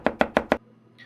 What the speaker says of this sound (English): they heard a knock at the door